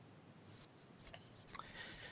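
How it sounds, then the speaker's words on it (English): A marker scrawl being wiped off a classroom whiteboard, with dry, scratchy rubbing strokes repeating close by, alone with no talk. "I need to erase this."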